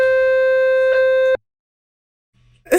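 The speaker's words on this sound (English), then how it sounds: "what's that? A fire alarm." A fire alarm sounds a loud, steady electronic buzzing tone for over a second, then cuts off abruptly into near silence before faint noise returns.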